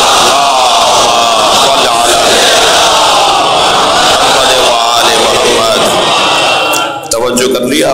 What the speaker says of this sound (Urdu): دانستہ نادانستہ گناہوں کی معافی کے لیے بلند تر صلوات